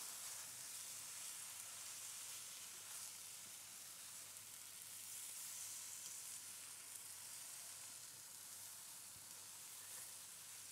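Pok choy stir-frying in a pan with pepper, a little sugar and salt, giving a steady, close sizzle with faint stirring scrapes throughout, no voices.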